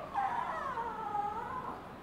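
A small young female dog whines in a long, high, wavering tone lasting about two seconds, close by in a quiet room.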